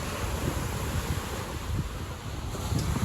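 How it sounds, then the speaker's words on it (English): Water laps the shore of Lake Michigan in a steady wash of small waves, with wind buffeting the microphone throughout and no voices. "come back to the beautiful sound of water lapping the shores of Lake Michigan"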